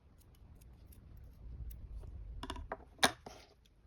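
Scissors snip through yarn while a small crocheted octopus is finished, giving a couple of quiet crisp clicks near the end with soft handling noise before them.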